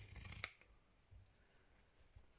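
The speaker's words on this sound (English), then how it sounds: "I'm going to take my pinking shears and I'm going to cut" Pinking shears snip once through a scrap of fraying clothing fabric, a single crisp close cut, followed by a few faint handling rustles in a quiet room.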